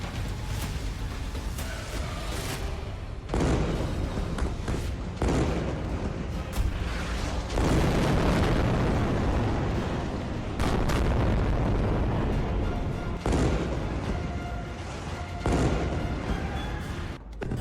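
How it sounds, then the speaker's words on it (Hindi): Heavy booming blasts from an Israeli strike on Gaza, several loud, dense bursts with rolling rumble that swell and fade across the span, no voices over them. "इजराइल ने गाजा पर ऐसा बम गिराया है जिससे पूरा गाजा धुआं धुआं हो गया है।"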